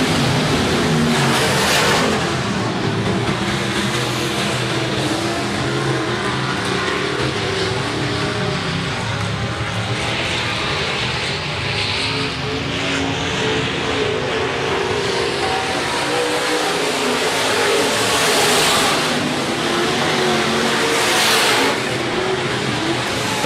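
Sportsman and B-Modified race cars roar around the Rapid Speedway dirt oval during a heat race, engines droning loudly and continuously with rising and falling revs as the pack passes.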